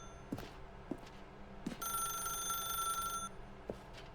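An old-style telephone bell rings once in a continuous metallic trill lasting about a second and a half in The Stanley Parable: Ultra Deluxe, amid quiet ambience and a few soft, scattered clicks.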